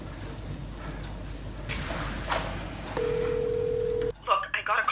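A steady telephone dial tone sounds for about a second amid a rainy, hissy background when a number is called back, then cuts off abruptly before indistinct voices.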